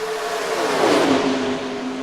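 NASCAR Racing 2003 stock car engines roaring in a close side-by-side battle, loud and continuous, rising then dipping in pitch as the cars pass through.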